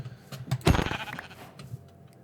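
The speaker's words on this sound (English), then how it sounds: "there's actually some sheep right up here, so I can make a bed" A Minecraft sheep gives a single loud, close bleat over low game ambience, followed by a quieter tail.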